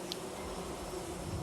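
Buzzing of a bee, a steady insect drone that holds through the short stretch at moderate level, with no talking over it.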